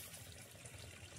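Water runs steadily from a pipe outdoors in the Sundarbans, a faint continuous gush and trickle with no voices.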